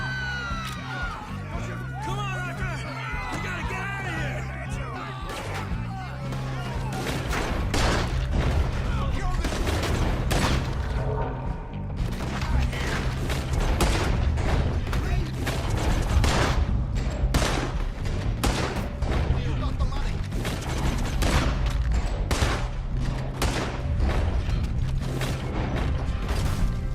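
A shootout in the video game Red Dead Redemption 2, with dense, rapid gunfire volleys crackling continuously alongside mechanical clatter and occasional shouting voices.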